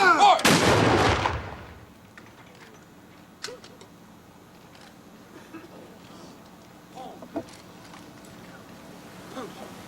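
A ceremonial gun salute at Ronald Reagan's memorial booms once, loud and close, then rings out into quieter outdoor ambience with scattered faint sounds.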